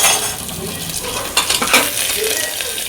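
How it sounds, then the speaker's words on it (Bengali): Peanuts and fresh curry leaves fry in a pan with a steady close sizzle and crackle, broken by a few louder spits and a stir or two against the metal. "দেখো সাথে একটু বাদাম ভেজে দেবো।"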